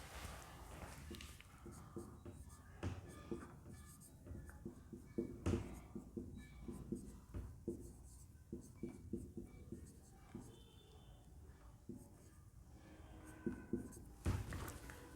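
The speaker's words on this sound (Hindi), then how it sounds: "स्पेलिंग लिख देता हूँ।" Pen or chalk scratching out a spelling during a classroom-style lesson, a series of short scraping strokes in bursts with pauses, close and moderately faint, while a teacher's voice talks intermittently.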